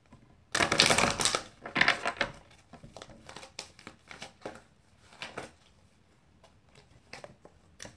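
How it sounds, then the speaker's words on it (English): Tarot cards being shuffled and pulled from the deck, a couple of loud riffling bursts followed by softer scattered card flicks and taps close by. "So I'm going to go ahead and pull some advice cards for you guys."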